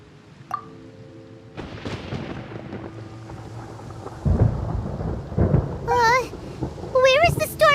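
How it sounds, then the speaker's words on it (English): Rumbling thunder rolls through a stormy scene in the video game Genshin Impact, low and building under rain, with character voices speaking over it and bright chiming game tones near the end. "Paimon hears thunder!"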